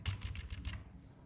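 Quick run of keystrokes on a computer keyboard, close and fairly faint, clattering in short bursts for about a second before trailing off into quiet.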